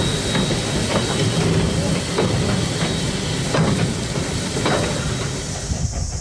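Heritage locomotive JA 1250 climbing out from a crossing near the Pukeowari workshops on the Waiuku line, a steady loud rumble with hiss and rhythmic wheel clatter rolling past close by for several seconds.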